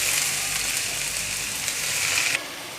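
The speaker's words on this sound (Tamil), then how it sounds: "இப்போ வந்து கழுவி வச்சுருக்கிற மணத்தக்காளி கீரையை அதில் போட்டுக்கலாம்." Black nightshade greens hit hot oil with mustard seeds, onion and chili, giving a loud, steady sizzle and crackle that drops suddenly to a softer hiss near the end.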